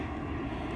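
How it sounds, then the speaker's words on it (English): A passing airplane over Playa Del Rey Beach, California, makes a steady low jet rumble that holds at an even level for under a second, with no voices. "A couple more airplanes right there."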